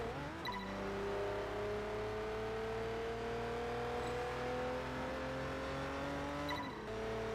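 A 2015 Audi RS6 Avant in the Test Drive Unlimited 2 racing game drones loudly and steadily, its engine pitch climbing slowly through a long gear, with a brief shift-like break near the start and again near the end.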